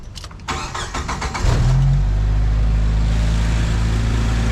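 A Jeep Wrangler's engine cranks with a quick run of starter whirs, catches, and settles into a loud, steady idle close by, after a fuel injector upgrade.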